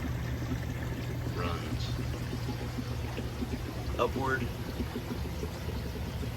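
Small pump pushing water up into a barrel of biomedia, giving a steady close pouring and trickling wash throughout, with a person talking over it.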